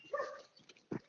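A dog gives a couple of short yips and barks, close by and fairly faint, with a brief whimpering sound between them and no talk over them.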